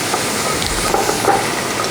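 A spoon lightly stirs vegetables mixed with lemon juice and sugar in a pan, a soft, steady scraping and faint sizzle lasting under two seconds, with no talking.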